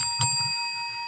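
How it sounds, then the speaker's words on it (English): A bell rings once with a bright strike, and its clear tones keep ringing steadily through the whole moment. Faint low murmuring sits underneath. "That's my bell."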